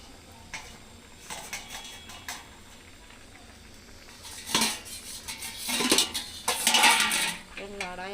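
Chicken is stirred in a small kadai pan, a spatula scraping and clinking against the metal in irregular bursts that grow louder toward the end, with no talk over it.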